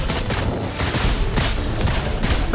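Dense, rapid gunfire from the video game Wuthering Waves crackles in a continuous loud barrage of overlapping shots and bursts, with no pauses.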